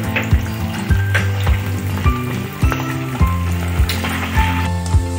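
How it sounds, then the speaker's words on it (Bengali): Semolina sweet balls fry in hot oil on a low flame, a steady bubbling sizzle broken by regular clicking pulses over a low hum, with no talking. "এখন আমি মিষ্টি গোলাগুলো ছেড়ে দিব। এটা খুব লো ফ্লেমে ভাজতে লাগবে।"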